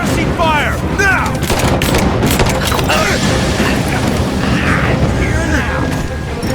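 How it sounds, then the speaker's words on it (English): Heavy suppressing gunfire rages in Rise of the Tomb Raider at the Baba Yaga temple: dense, loud, continuous volleys with booms and rapid automatic bursts. Voices are mixed in beneath the shooting. "Give me suppressing fire!"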